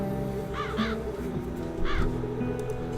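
Crows caw in the dark fantasy game The Dark Eye: Chains of Satinav, three or four harsh calls in two clusters, fairly close, heard over a low droning ambient score.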